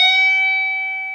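A single bent note on an electric guitar, pushed up a minor third at the 15th fret in a blues-rock scale, rings out clean and sustained, fading slowly over about a second.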